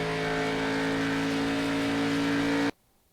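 A race car's engine holds a steady, loud droning tone as it passes close by for under three seconds, then cuts off abruptly to near silence.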